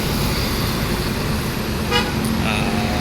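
A Rang Awak Sa-iyo Trans tour bus idling at the Yonda Prima rest stop, with a steady loud engine drone and a brief horn toot near the middle, plus roadside traffic.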